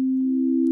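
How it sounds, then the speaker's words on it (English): A pure sine-wave C note from a synthesizer in Ableton Live holds steady as a single clean tone with no harmonics, loud and sustained alone for under a second. "the sine wave, it just plays the fundamental of the note, no harmonics"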